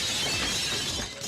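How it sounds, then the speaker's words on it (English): Glassy shatter effect bursts loud and bright for about a second, then thins out, triggered by a button in the Marvel Legendary card video game. "I get to press the fun shatter button"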